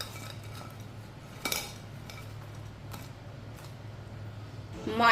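Seekh kebabs being shifted from a metal strainer onto a plate in a home kitchen: a few faint clinks and scrapes of utensils, with one brighter knock early on and another at the end, over a steady low hum.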